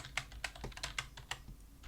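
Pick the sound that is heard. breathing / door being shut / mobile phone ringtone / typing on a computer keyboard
typing on a computer keyboard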